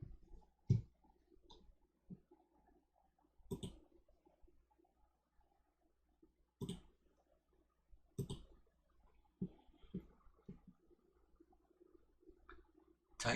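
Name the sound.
computer mouse clicking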